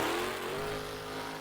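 The Avenger monster truck's engine revs hard in NRG Stadium in Houston, a loud, sustained roar with a rising pitch, set against a distant crowd wash.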